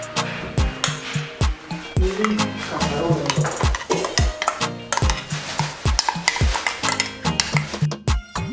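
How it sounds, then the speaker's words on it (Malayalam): Ground coconut paste being stirred into kalan curry for an Onam sadhya, with a spoon scraping and clinking against the pot in a steady, repeated rhythm, close and fairly loud, with no talking. "ഇനി ഇതിലോട്ട് നമുക്ക് അരപ്പ് ചേർത്ത് കൊടുക്കാം."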